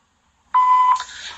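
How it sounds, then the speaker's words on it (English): Voicemail recording tone: one clean electronic beep, loud and steady for about half a second, then a brief shift into a softer higher tone. "Record your message after the tone."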